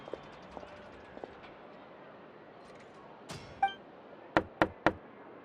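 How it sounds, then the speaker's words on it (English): Three sharp knocks on a door in Genshin Impact ring out in quick succession near the end, after quieter footsteps and a few soft clunks in a hushed setting. "I'll go knock on the door"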